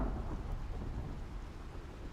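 Rain falls steadily with a low rumble of thunder in the survival video game Icarus, continuous and fairly loud with no voices.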